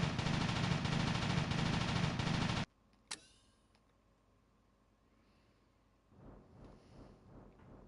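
A turret fires in Tomb Raider The Angel of Darkness: a loud, dense burst of rapid gunfire that stops abruptly, followed by a single sharp crack, near silence, then a fainter rumbling stretch.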